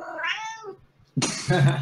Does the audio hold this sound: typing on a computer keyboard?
no